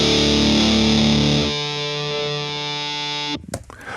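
An electric guitar sustains an A note in feedback under heavy distortion: a dense, loud chord gives way to a single singing tone that holds steadily, then cuts off abruptly into a brief scrape.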